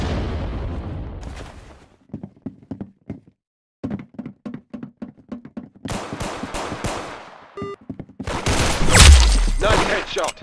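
Gunfire in the Arsenal shooter game, bursts of sharp separate shots in quick rhythmic runs, broken by silences, ending in a heavy loud blast.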